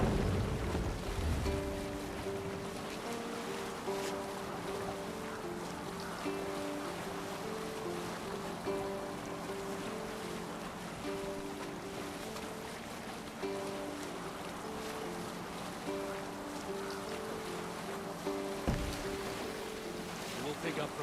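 Sailing ship at sea in the Viking-era game Assassin's Creed Valhalla: steady wash of waves and wind against the hull with a low rumble, plus a faint repeating musical drone underneath, continuous and fairly even throughout.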